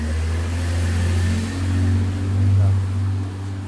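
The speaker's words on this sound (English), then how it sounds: "So let the car through here." Car driving past on a narrow village lane, a loud close engine drone that swells and fades, with a steady low hum throughout.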